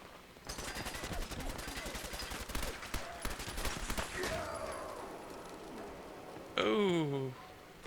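Pipe rifle gunfire in Fallout 4: a fast burst of shots, loud and close, that runs for several seconds and trails off. A sharp whooshing game effect follows near the end.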